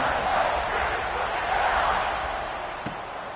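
A stadium crowd in an NCAA 26 college football game, Ohio State against USC, keeps up a broad, steady roar at kickoff, loud and even, easing off slightly near the end with one brief thump.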